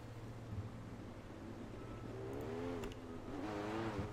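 Midget race car engine in a sim racing game on a dirt track at Charlotte, a distant droning motor that rises in pitch as it revs up, moderately loud.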